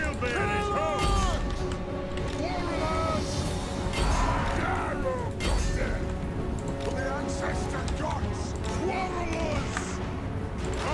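Units in Total War: Warhammer, a dwarf army, charge into melee with a dense, continuous clash of running, crashing and whacking battle noise. Crowd-like shouts come through, and a voice speaks over it throughout.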